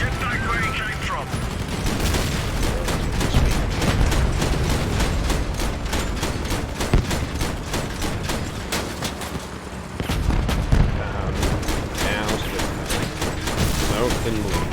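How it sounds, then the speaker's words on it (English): Rapid, dense gunfire from vehicle weapons in the combat game Crossout, a loud continuous barrage of overlapping shots and blasts throughout, with voices talking over it. "Good shooting, lad"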